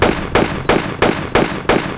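Six evenly spaced gunshots ring out in the Tomb Raider custom level Streets of Rome, a Tomb Raider Chronicles-style game, each a sharp loud crack with a short tail, firing in a steady rhythm about every third of a second.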